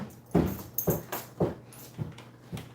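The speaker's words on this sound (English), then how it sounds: "Is that a dog?" Max, a small puppy, whimpers and yips in short bursts about every half second, close by and fairly loud, with faint jangling in the background.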